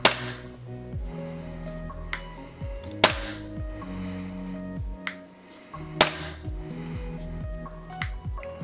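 Sharp gas blowback shots from an AW Custom VX9310 airsoft pistol, fired semi-auto in separate cracks about a second apart with the slide snapping back each time, loud and near with no talk.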